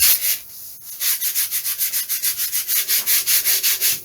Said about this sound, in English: Hold them and give them a light sand.